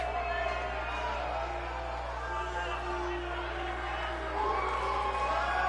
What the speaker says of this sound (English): Crowd loves Dick Hammerbush.